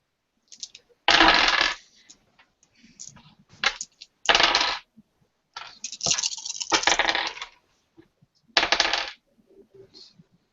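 Dice rattle and clatter in several bursts during a tabletop roleplaying game session, some rolls long and loud, others short, close to the microphone with no talk over them.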